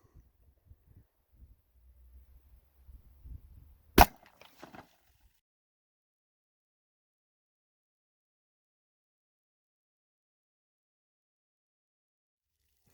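A Buffalo Bore .45 ACP +P 255-grain hardcast round is fired outdoors into water jugs, a single sharp loud crack standing out after quiet low rumbling and faint handling noises.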